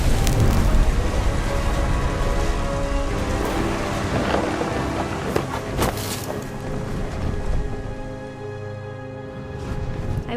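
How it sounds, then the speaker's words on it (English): A thunderstorm in the video game What Remains of Edith Finch: loud, steady heavy rain with rolling rumbles of thunder and sharper cracks throughout, and no voices. "The thunder sounded much too close and full of angry power."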